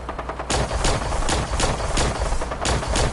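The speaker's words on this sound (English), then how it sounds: "Man, this rifle is perfect for this stuff." In a video game, a rifle fires a rapid string of sharp, loud shots after a brief lull, about a dozen reports at an even rhythm, close and with no talking.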